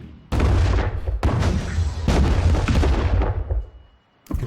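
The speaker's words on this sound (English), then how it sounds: "Looks like we're choosing to shoot the fighters down before we attack the ships." Weapons fire from the space strategy game Distant Worlds 2 as ships shoot down attacking fighters: loud, sustained booming bursts in several overlapping waves, then a brief lull before another blast starts.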